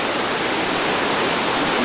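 Waterfalls in Krka National Park in Croatia give a steady, dense rushing roar of falling water, close and loud, with no voices.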